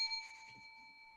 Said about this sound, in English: I'm gonna ring the bell.